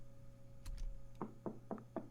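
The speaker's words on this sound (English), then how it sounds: "There was a knock on the door, disturbing your ever-needed sleep." Four evenly spaced knocks on a door ring out crisply after a brief shuffle, close and moderately loud against a faint steady hum.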